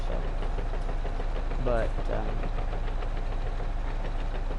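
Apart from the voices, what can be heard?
bulldozer engine running in a video game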